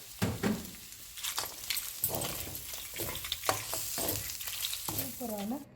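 Mutton sukka with salt, cashews, curry leaves and dried chillies sautéing in a pan, a soft, continuous frying hiss broken by scraping stirs, quiet and close.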